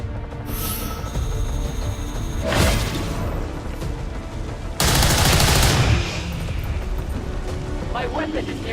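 Weapon fire in the video game XCOM 2 comes in two loud, dense bursts, a short one early and a longer, heavier volley a couple of seconds later, over steady game background noise.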